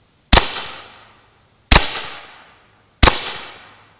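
Three loud, sharp pistol shots from a Pistelle X-68 fired into denim over ballistic gel, evenly spaced about 1.4 seconds apart, each a close crack with a ringing decay and no talk.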